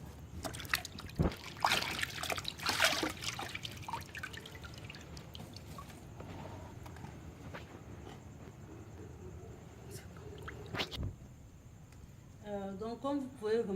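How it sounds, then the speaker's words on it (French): Pineapple fruits rinsed by hand in a basin of clear water at night, with dripping and trickling splashes and soft sloshing throughout, busier early on, amid a noisy background with some voices. "les fruits sont rincés dans une eau beaucoup plus claire et déposés dans cette cuvette"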